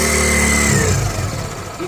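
Motorcycle engine revving as the accelerator is opened on a bike under repair with the tappet cover off, a close, loud mid-pitched engine note that rises and then settles back toward idle.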